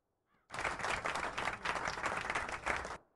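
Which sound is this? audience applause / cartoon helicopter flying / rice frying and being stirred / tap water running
audience applause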